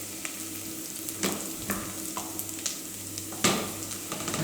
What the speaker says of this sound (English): We wait for the onion to become a little golden